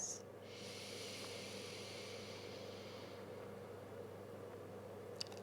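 A slow, steady exhale through one nostril during alternate-nostril breathing, a soft continuous airy hiss held for about three seconds and then fading into quiet room tone.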